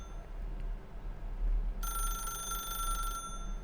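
A telephone in the video game The Stanley Parable rings with a bright electronic trill, starting partway in and lasting over a second against a low background hum, then stopping.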